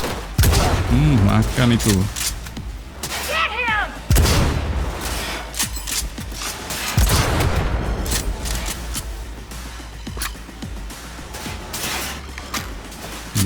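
Sniper rifle fire in the video game Cyberpunk 2077: several sharp, loud booming shots spaced a few seconds apart amid game effects and music, with someone briefly talking between them.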